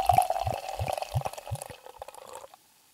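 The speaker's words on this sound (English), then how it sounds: "I'll do a little bit pouring so everybody could hear" Cider poured into a glass: a steady gurgling liquid stream with a rhythmic series of glugs that slows and thins out, then stops into near silence, close and moderately loud with no talk.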